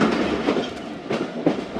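The 15Up Karachi Express runs steadily on the rails, a continuous close rumble with rhythmic clickety-clack wheel beats and no voices.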